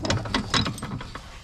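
A spring compressor is tightened onto the coil spring of an Audi A6 C7, giving a few quick ratcheting clicks in close succession, near and fairly quiet, with no talking.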